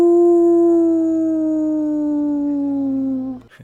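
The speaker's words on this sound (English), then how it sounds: "A large creature of some sort leaps up onto the center fountain of Bledsun and lifts its head and howls toward the moon." A large werewolf-like creature perched on a town's central fountain lets out one long, loud, sustained howl at the moon, its pitch sliding slowly downward before breaking off abruptly.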